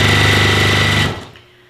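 A home sewing machine runs steadily at speed, stitching a tablerunner or tote, loud and close with a dense whirring hum, then stops about a second in and leaves a faint fading tail.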